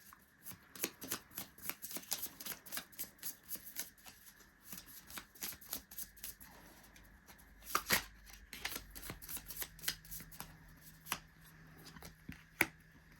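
Tarot cards being shuffled up close, a steady run of crisp riffling slaps and flutters with brief pauses, and a few sharper snaps near the end.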